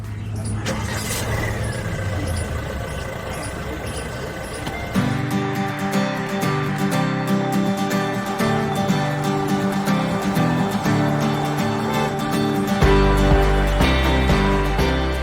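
A Hyundai Tucson driving toward Gurgaon, a steady low engine and road rumble carrying through the whole stretch, with extra clatter and layered noise building up partway through.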